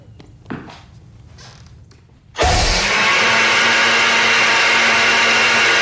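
A blender abruptly kicks on after a few faint thumps and quiet moments, then roars loud and steady with a constant whirring motor drone right up close.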